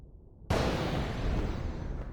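A lightning strike attack from the Final Fantasy X game hits with a sudden loud burst and then sustains a dense, crackling roar to the end of the clip. No one speaks.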